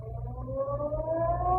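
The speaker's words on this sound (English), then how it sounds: "just as the ferry building siren was announcing 8 o'clock to downtown San Francisco" The ferry building siren in downtown San Francisco sounds its 8 o'clock signal, a steady wailing tone rising slowly in pitch, heard at moderate distance for under two seconds.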